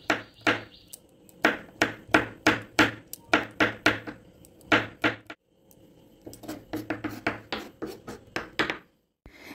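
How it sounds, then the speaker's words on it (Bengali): Garlic cloves chopped into small pieces on a board: a rapid run of sharp knife strikes, a brief pause, then another steady run of chops ending in a single final knock. "রসুনের কোয়াগুলো এইভাবে একটু ছোট ছোট টুকরো করে"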